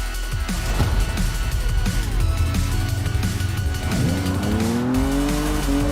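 A Jaguar races in Forza Horizon 4, its engine roaring loud and close throughout with rising revs and a sustained tire squeal as it skids through a turn near the end.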